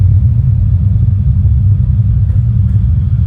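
Road traffic with many cars going by makes a loud, steady low rumble of engines and tyres, with no gaps.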